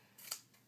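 Scissors making a single quick close snip through paper pieces, brief and crisp in a quiet room.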